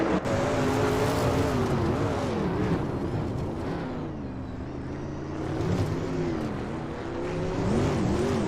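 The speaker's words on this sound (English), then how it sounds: "Ingle McCringleberry is driving a Mercury Cyclone" A Mercury Cyclone race car running mid-pack in a race gives a steady, loud engine drone whose pitch wavers gently as it holds speed, with no pauses and no talk.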